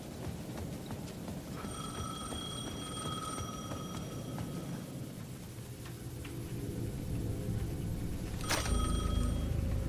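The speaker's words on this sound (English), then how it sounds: "that payphone is... at the edge of the plaza was ringing again." A payphone rings in the video game Alan Wake II: repeated bursts of a bright electronic bell, fairly faint over a low ambient rumble, with a sharp clatter late on and no speech.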